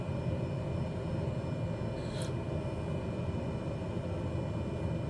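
Aircraft engine in a flight game, throttled back to idle on approach with full flaps, a steady broadband drone with wind rush holding at an even level throughout.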